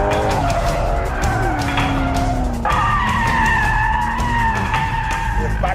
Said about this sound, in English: I bet I can do a longer power slide in that than you two can in these.